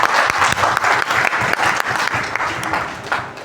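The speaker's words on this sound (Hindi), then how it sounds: "एक बार शानदार ताली हो सकती है क्या?" Audience applause at a business seminar, dense steady clapping from a large crowd with a few sharp louder claps, sustained throughout and slowly tapering at the end.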